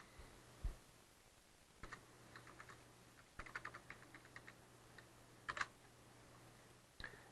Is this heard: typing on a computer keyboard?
yes